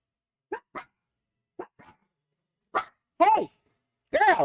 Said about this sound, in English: the next door neighbor's dog is out there barking